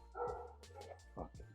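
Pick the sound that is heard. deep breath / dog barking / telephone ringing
dog barking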